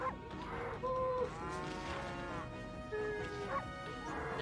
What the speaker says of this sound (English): Oh, look at them cows!